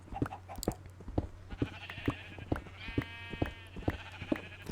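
Minecraft sheep bleat in a few drawn-out, wavering calls close by, set against a steady run of soft regular tapping steps.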